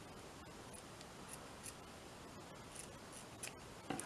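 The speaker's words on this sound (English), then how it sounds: "Let's just cut this little bit of the net off." Scissors snip through a small bit of netting in a handful of faint, brief clicks over a steady hiss, with no talking.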